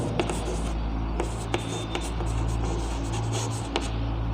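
Marker or chalk scratching on a board during a chemistry lesson, short strokes and taps close up over a steady low hum, with no talking.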